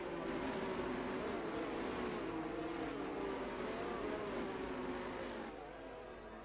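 Race cars in a racing video game circuit at Bahrain queue behind the safety car, engine drone steady and fairly loud throughout, easing slightly near the end.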